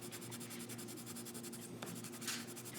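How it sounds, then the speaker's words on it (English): A white colored pencil is burnished across paper under firm pressure, giving a faint, steady scratchy rubbing in repeated strokes with a louder swipe near the end. "using the white colored pencil to do something called burnishing"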